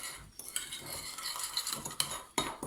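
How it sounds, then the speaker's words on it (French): A utensil stirs a dalgona cake mixture in a tall cylindrical container, giving quiet scraping and clinking against the sides in short irregular strokes, with a few sharper knocks, close up. "Donc là je mélange une première fois comme ceci."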